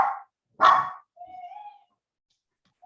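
Small dogs barking at home as family arrives: two short, sharp yaps close by, a thin whine, and the start of another bark, with quiet gaps between.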